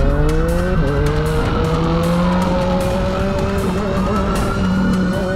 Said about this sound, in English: they all hopped in their bikes and sped off as the police arrived